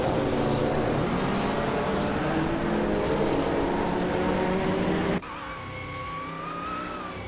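Porsche 961 LN endurance race car in a racing video game, its engine droning loud and steady with harmonic whine, then an abrupt cut to a quieter, higher-pitched engine tone for the last two seconds.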